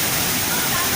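Pangyan Falls in Davao Oriental pours down with a steady, loud, broadband roar of rushing water, continuous and close.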